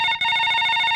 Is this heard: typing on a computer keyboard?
no